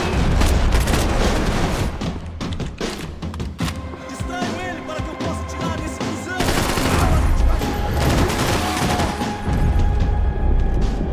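Dense video-game gunfire in a hardcore match with golden guns off: rapid bursts and booming shots packed together throughout, loud and close over background game noise and music.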